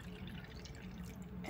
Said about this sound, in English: And then I pour some cold water